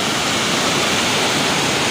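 River water pours below a small dam reservoir after a landslide, a loud, steady, broadband rushing roar with no break, close by and dominating everything.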